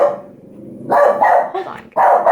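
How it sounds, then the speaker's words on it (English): A pet dog barks loudly and close by at a mail carrier, a few heavy, drawn-out barks and growly yelps coming in bursts after a quieter lead-in. "He was barking, the mailman came."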